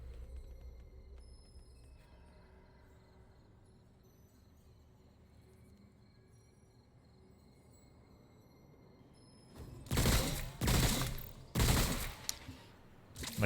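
Gunfire in the video game Remnant: From The Ashes, on NG+ Nightmare: a low, quiet ambient bed, then several loud, close bursts of rapid shots in quick succession near the end.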